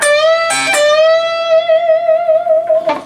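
A sustained electric guitar note on the fifteenth fret bends upward and holds with a gentle wavering vibrato, a few picked attacks cutting in, ringing loud and clear.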